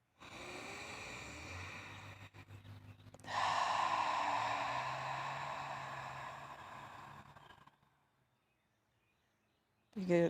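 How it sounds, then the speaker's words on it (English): A deep, slow inhale through the nose followed by a long, audible exhale through the mouth during a quiet yoga class, close and soft, trailing into silence. "take a huge inhale through the nose and let it all go through the mouth"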